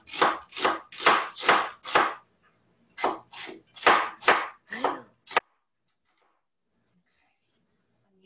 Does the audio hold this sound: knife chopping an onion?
yes